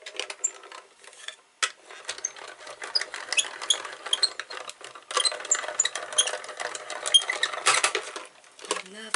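A small manual card-making die-cutting machine runs with plates passing through, giving a steady mechanical whirring and clicking with metallic rattles over several seconds, close and fairly loud.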